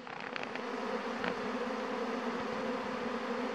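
A honeybee swarm pours out of a hive about 1.5 metres away outdoors, making a dense, steady buzzing drone that holds at an even loudness throughout, with no voices.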